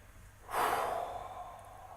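A single slow breath during a guided meditation, a soft rushing inhale or exhale that swells, then fades gradually, close and alone with no talk.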